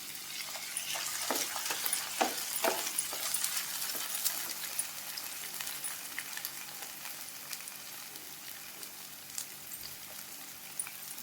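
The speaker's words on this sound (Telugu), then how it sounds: "ఉల్లిపాయలు, పచ్చిమిరకాయలు బాగా ఫ్రై చేసుకోవాలండి" Onions, green chillies and tomatoes fry in hot oil with a continuous sizzle, crackling and popping throughout and a few sharper spits early on. Moderately close, no talking.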